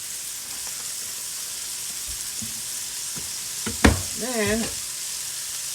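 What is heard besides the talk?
sizzling oil in pan for floured scallops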